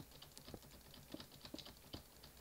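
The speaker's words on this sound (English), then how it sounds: "you guys can probably hear my keyboard going clickety clickety clickety click" A computer keyboard clatters with quick, irregular keystrokes, close and fairly quiet, with small bursts of clicks and no voices.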